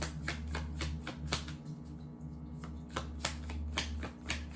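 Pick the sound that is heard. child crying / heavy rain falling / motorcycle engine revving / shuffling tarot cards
shuffling tarot cards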